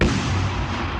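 A huge cosmic explosion effect for the Big Bang: a sharp, loud boom that opens straight into a dense, sustained roaring rumble.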